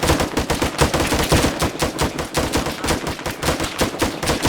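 Dense, continuous automatic gunfire from the video game Arma 3 during a zombie infestation fight in Pripyat, rapid overlapping shots from several weapons loud and close with no pauses.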